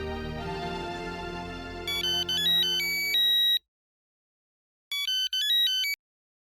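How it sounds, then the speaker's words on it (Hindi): A phone ringtone plays a melodic electronic tune, cuts off, then resumes briefly after a silent gap, clear and close with no voices. "मैं एक मिनट सोडी को फिर से फोन लगाता हूँ।"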